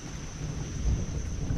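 Low thunder rumbling after a lightning strike, a continuous deep roll that swells slightly toward the end, moderately loud with no voices.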